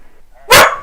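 One loud, sharp bark from a nearby dog cuts in abruptly over faint background voices.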